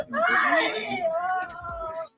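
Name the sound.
person yelling and hollering in the background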